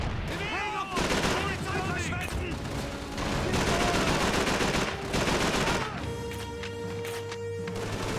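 Dense, loud gunfire from the PS2 video game Call of Duty 3, with rapid automatic bursts and crashing impacts that keep going almost without pause, a brief lull near the start and a steady rumble beneath.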